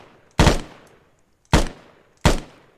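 Three sharp modded weapon shots in Arma 3, each a loud, punchy crack with a short decaying tail, the first two spaced about a second apart and the third following closely, with no talk.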